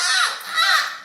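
A crow caws twice in quick succession, harsh and close, standing alone with no other sound.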